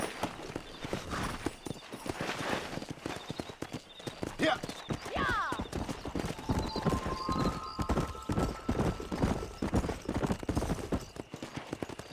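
Horse hooves clip-clopping at a steady riding pace in the Western video game Red Dead Redemption, with a neigh partway through and voices talking over the hoofbeats.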